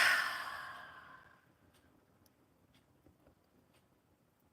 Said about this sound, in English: Exhale it out.